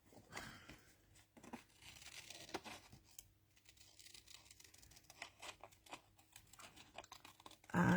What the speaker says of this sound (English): I'll do some cutting out now.